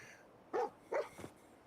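A dog companion in Fallout 4 gives a few short, faint yips and barks in a row, soft and somewhat distant over a quiet game background, with no speech.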